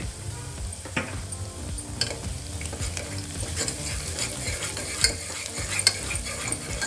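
Onions with turmeric stirred and frying in a pan for beetroot kurma, a steady sizzle running throughout with scraping stirs and a few sharper clinks of the spoon against the pan.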